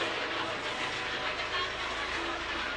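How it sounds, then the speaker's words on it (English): A helicopter lifts off during an inning at a ballpark, its engine and rotors making a continuous broad roar that stays steady and fairly close the whole time, with faint talk underneath. "watch the helicopter take off in the middle of the inning"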